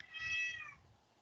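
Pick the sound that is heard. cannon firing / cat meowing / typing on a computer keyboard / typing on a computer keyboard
cat meowing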